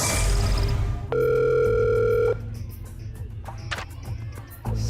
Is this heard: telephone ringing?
yes